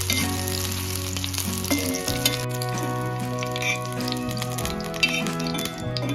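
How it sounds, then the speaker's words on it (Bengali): Green chilies fry in hot mustard oil, giving a close, continuous sizzle and crackle with occasional stirring clinks, with no talk. "এরপর কাঁচা মরিচগুলো সরিষার তেলে ভেজে নেবে"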